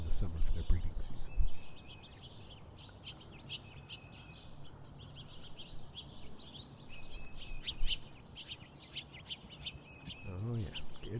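Finches at a backyard bird feeder give scattered, bright chirps and tweets over a steady hum of morning outdoor ambience, with a few louder, nearer calls at the start and near the end.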